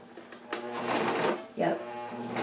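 A sewing machine fitted with a thicker needle stitches a replacement zipper into a jacket, giving two short whirring runs of rapid mechanical chatter, the first longer, with pauses between and a person speaking nearby.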